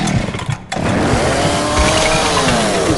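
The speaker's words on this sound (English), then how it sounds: "I just got my chainsaw, bro." A chainsaw in the Roblox horror game revs loudly, dropping out briefly before roaring back into a sustained, steady whine with rising and falling engine pitch.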